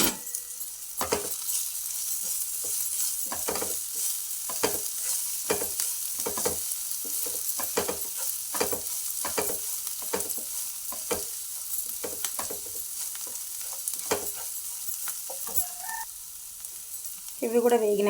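Onion, ginger, green chilli and curry leaves fry in a pan, a steady close sizzle broken by repeated scraping strokes of a spatula stirring at a regular rhythm, with a louder clatter near the end.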